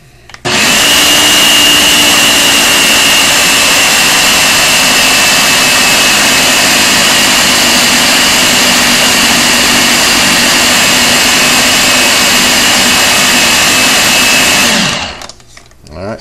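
A Ninja blender churns cream into butter, a loud, continuous motor roar and whirring blade starting abruptly, holding steady for about fourteen seconds, then cutting off and spinning down.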